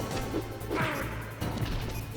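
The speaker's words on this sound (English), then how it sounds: "Throws glass." Glass thrown and shattering in Metal Gear Solid, a crashing smash with breaking shards over a steady low game hum, followed by further impacts, moderately loud and close.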